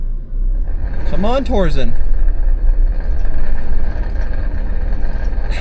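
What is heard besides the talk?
Toyota Land Cruiser 250 engine at full throttle, wheels spinning on rollers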